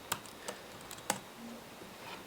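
An IP address is tapped out on a computer keyboard: a short, quiet burst of a few crisp keystrokes, unevenly spaced, in a still room.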